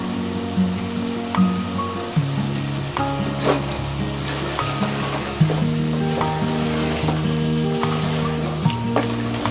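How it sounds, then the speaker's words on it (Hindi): Chicken and potatoes cooking in a masala, an aloo chicken salan, sizzle and crackle steadily and loudly in the pan, with occasional stirring scrapes and no voices. "अब इस मसाले में अच्छी तरह से इसको पकाना है।"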